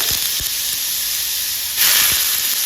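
Bottle gourd (lauki) pieces hit smoking-hot oil with asafoetida over a high gas flame, giving a loud, steady hiss that swells as more goes in, with a few low knocks from the pan.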